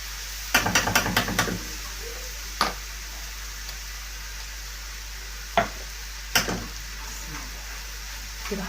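Meat frying in a pan as salt goes in and a spoon stirs it: a steady soft sizzle underneath, with a cluster of sharp scraping clicks early on and a few isolated knocks of the utensil against the pan later.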